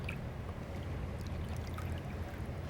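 Tap water running steadily over hands while soap is rinsed off, a soft continuous splashing stream, fairly faint and close, with no talking.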